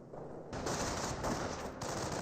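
Dense gunfire rattles continuously in a Company of Heroes battle, a sustained burst of rapid shots that steps up in loudness partway through, with no talking.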